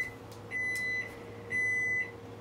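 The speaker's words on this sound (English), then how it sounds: "Oh, there's my timer" A kitchen timer gives two clear, high electronic beeps, each lasting about half a second with a short pause between them, over a quiet room hum.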